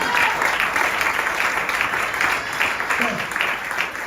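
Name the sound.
congregation applauding in church service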